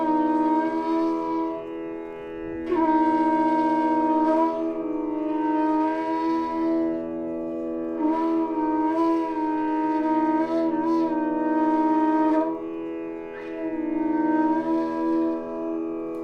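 Bansuri flute improvising around the notes Ni and Sa, with a series of sustained phrases, slides and short ornamented bends, played close and solo with brief breaths between phrases.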